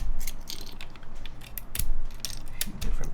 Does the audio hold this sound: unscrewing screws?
yes